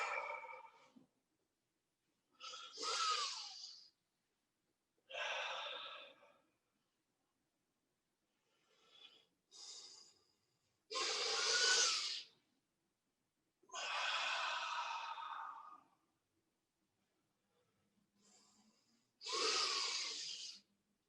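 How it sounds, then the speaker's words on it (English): Slow, deliberate breaths during a kids' aikido class breathing exercise, about eight airy inhales and long exhales separated by pauses of silence, close and fairly soft, with no talking. "let's do some breathing"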